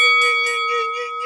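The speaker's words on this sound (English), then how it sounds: "please hit that notification bell" A bright notification bell chime rings out loud and clear, one struck tone that sustains and slowly decays, with no voices.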